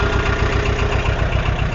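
A tractor engine idles in a steady, loud, close rumble while the tractor reverses along a road, with an even low throb and no speech.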